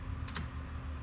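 A brief burst of typing on a computer keyboard as numbers are entered, two or three quick close clicks over a faint steady hum.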